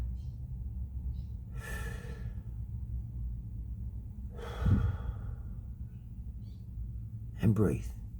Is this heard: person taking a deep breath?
yes